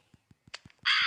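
Several short caws from cartoon crows ring out in a sparse, evenly spaced run, and a loud burst of noise cuts in near the end.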